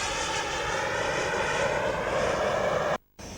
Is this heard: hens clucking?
no